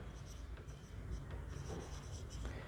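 Pen scratches across paper while a physics derivation is written out, with a continuous soft scribbling and small taps in a quiet room, close up and without speech.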